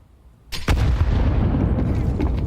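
Grenade blast in Counter-Strike 2 during a MOUZ vs Spirit match at IEM Cologne 2025, a sudden loud boom with a sharp crack and a heavy rumbling tail filling the rest.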